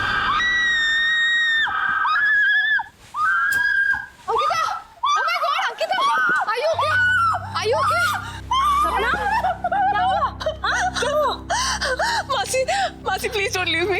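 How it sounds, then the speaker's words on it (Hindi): A girl screams in fright during a horror show, with high, drawn-out wails at the start followed by gasping, agitated voices over a low background hum. "क्यों चिल्लाई तुम?"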